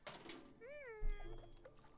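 A cat in a video game gives a drawn-out meow with a rising-then-falling pitch, fairly quiet, set over faint background game sound and followed by a softer trailing cry.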